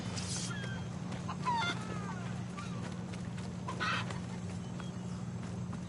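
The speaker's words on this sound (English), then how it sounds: "Listen, chicken, I'm not having any of your kind nonsense right now." A chicken in Assassin's Creed Odyssey clucks in a few short bursts over a steady droning game ambience, moderately close, with no voices.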